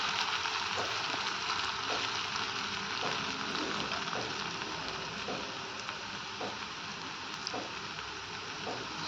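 Chilla batter sizzles steadily in hot oil on a pan, a continuous dense frying hiss with faint periodic ticks, fairly close and even in level with no voices.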